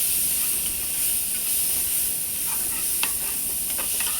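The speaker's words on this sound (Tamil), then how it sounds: "தக்காளி சேர்த்து நல்லா கிளறி விடுங்க." Tomatoes stirred and sautéing in a pan with onions for vegetable pasta give a steady loud sizzle and hiss, with a few sharp scrapes and clicks of the spoon toward the end.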